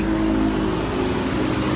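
Steady, loud road traffic in Tagaytay, a continuous engine rumble with cars passing close by and no pauses, without anyone talking.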